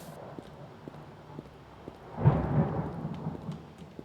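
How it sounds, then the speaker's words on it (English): Deep rolling thunder swells midway and rumbles on over a steady bed of rain, loud and close, with no voices. "That thunder."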